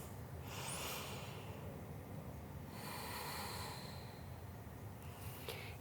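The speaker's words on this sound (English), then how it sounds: "we're just finding full deep inhales and exhales here" Slow, deep breathing during a power yoga session, with long airy inhales and exhales swelling and fading over several seconds, close and soft with no talk.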